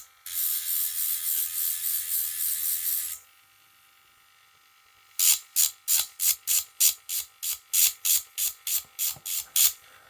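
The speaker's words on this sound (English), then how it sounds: "I'm literally just grinding the side of the blade." A grinder works the flat side of an old Ka-Bar knife blade: a steady, loud whirring buzz for about three seconds, then a pause, then a rapid series of short rhythmic grinding bursts.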